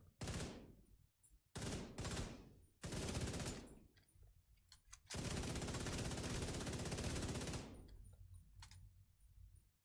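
Player's gun firing in The Division 2, with several short automatic bursts followed by a long sustained stream of rapid fire, loud and close, separated by brief quiet gaps.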